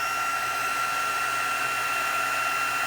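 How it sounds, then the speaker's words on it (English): A heat tool drying embossing paste on a handmade card, a loud constant whirring blow with a high whine, close and uninterrupted. "I'm going to help it dry with the heat tool"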